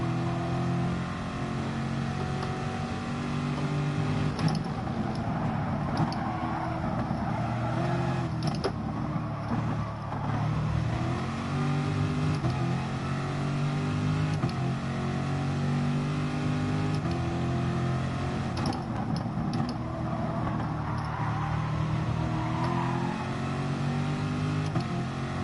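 Race cars in the GT Sport driving game roar continuously, their engines droning and shifting pitch as they rev through gears, loud and close for the whole stretch with no talk.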